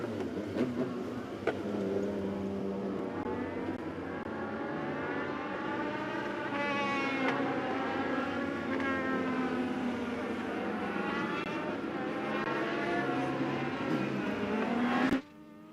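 Race cars on the track at Charlotte Motor Speedway during a Summer Shootout qualifying group. Engines give a steady, droning roar that holds for the whole stretch and then cuts off abruptly.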